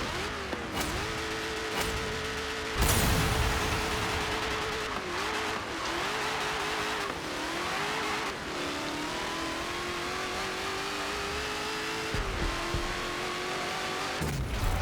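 Simulated car launching at a drag strip in Forza Motorsport 7 with wheelspin, a loud steady engine roar with tonal revving that rises and falls across the launch, tire noise continuous throughout and no talking.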